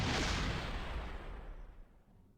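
A rocket blows up in Kerbal Space Program: a broad, rumbling explosion that starts loud and slowly fades over a couple of seconds, with no voices on top.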